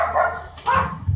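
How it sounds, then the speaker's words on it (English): Pet dogs barking indoors, two or three muffled, mid-distance woofs in quick succession, with faint background noise. "Oh, my dogs are barking."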